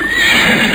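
A horse whinnies in one continuous, loud, close neigh with a steady high-pitched tone and no voices.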